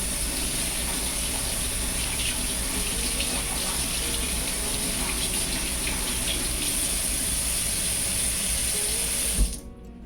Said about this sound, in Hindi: सब कुछ होने के बाद मैं ग्लव्स भी धोती हूँ विथ हैंड वॉश।